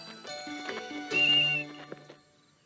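A short, sharp whistle blast signals players to stop during an outdoor children's circle-running game. The whistle rises clearly for about half a second amid other brief tones.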